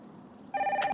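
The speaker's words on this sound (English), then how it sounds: "Get the phone, please." A telephone rings in the Nancy Drew Danger by Design video game, a single bright electronic ring that starts partway through after a faint hum and stays close and clear, with no talking.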